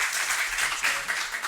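An audience applauding the new director of a regional school office at an Italian public gathering, with dense, steady clapping from a crowd throughout.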